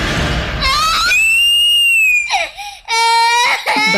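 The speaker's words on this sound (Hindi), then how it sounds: "वह बच्चा जमीन पर गिरते ही जोर जोर से चिल्लाने लगा।" A child screams and cries loudly after falling to the ground, with long, high wailing cries broken by short gasping breaths, close and piercing throughout.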